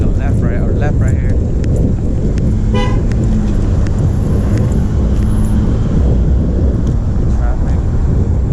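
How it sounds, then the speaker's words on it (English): Rush-hour road traffic on Broadway, a loud steady rumble of passing cars and wind buffeting, broken by several short car-horn toots, with a person talking over it. "Traffic."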